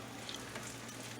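Crab dip fritters frying in a pan give off a steady, close sizzle that crackles evenly throughout with no voices.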